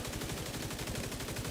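Dense video-game gunfire and a grenade launcher fill the scene with rapid, overlapping shots and blasts, a loud, unbroken barrage with no pauses or speech.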